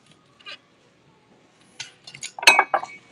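Glass clinking as a cranberry glass bowl is handled among antiques in a shop, with a few faint early taps followed by a cluster of sharper, louder clinks near the end.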